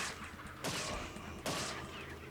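Two gunshots in the video game Resident Evil 4, each a sharp crack followed by a brief decaying echo, spaced less than a second apart over a low background hum.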